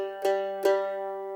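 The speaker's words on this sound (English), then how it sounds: "whereas the G on the mandolin sounds like this." Mandolin sounding a G note, two bright plucked attacks about 0.4 seconds apart, the tone ringing on steadily with a clear harmonic stack, close and solo with no voices.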